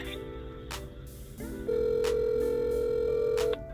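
A telephone line ringing after a menu prompt for placing a food order, a steady electronic tone sounding twice in a row with a short gap, close and clear with no talking.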